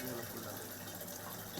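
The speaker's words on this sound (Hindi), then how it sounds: "पानी बह रहा है" Dirty drain water flows from a nala into a current-free turbine machine set up where it spills toward a river, a continuous faint rushing and gurgling wash with no break.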